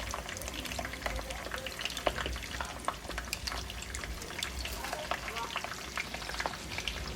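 Shrimp and chicken egg rolls fry in hot oil, giving a steady, close crackling sizzle dotted with sharp pops and spits that keeps going throughout.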